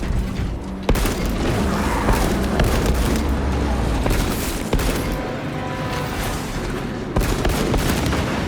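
Fragmentation grenade detonating in Warhammer 40000: Space Marine 2: loud, close booms that roll into sustained crackling bursts like gunfire, with several sharp blasts spread across the clip.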